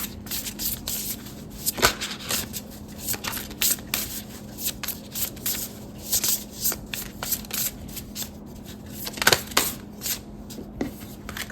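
Tarot cards shuffled by hand close up, a steady papery riffling and rubbing with repeated sharper flicks and slaps as the deck is worked, under a faint low hum and no talk.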